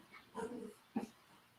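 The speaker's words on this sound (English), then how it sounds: "my dogs are going crazy" A dog gives two short faint whimpering barks, the first drawn out and whiny, the second a brief sharp yip, distant against quiet background.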